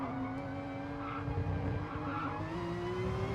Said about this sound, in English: The tyres squealing for mercy